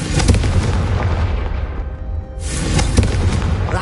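A Confringo fire spell cast in Hogwarts Legacy erupts in loud, close, booming fiery blasts, with a brief lull near the middle before a second burst roars again.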